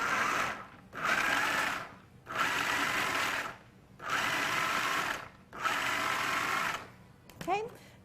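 A food processor pulses walnuts for pesto in five loud, even bursts of whirring motor, each about a second long with short silent gaps between, then a brief clatter at the end.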